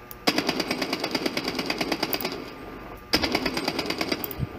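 Rapid automatic gunfire from a weapon in the shooter game Bloodstrike, two sustained bursts of evenly spaced loud shots, the first running over two seconds, a short pause, then a second burst.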